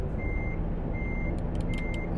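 A truck backing up in American Truck Simulator, its reversing alarm sounding as three steady beeps over a constant low engine rumble, with a few brief clicks near the end.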